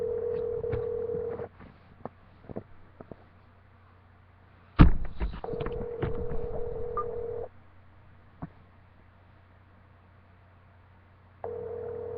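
A telephone line on a call to David, with steady line tones broken by clicks, a sharp clunk partway through, and the tone dropping out and returning near the end.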